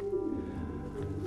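Racing pigeons cooing in a loft: soft, low, throaty coos rolling in a continuous murmur, close and fairly quiet, with no talk over them.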